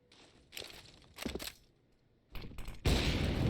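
Rifle fire in a Counter-Strike match, with a few separate bursts of gunshots split by short quiet gaps, then a louder, heavier volley at the end, all sharp and close.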